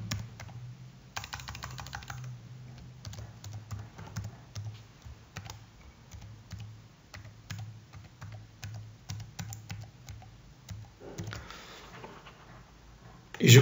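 Keys clatter on a computer keyboard as a username and password are entered, a steady run of close, crisp clicks with a brief burst of louder taps toward the end.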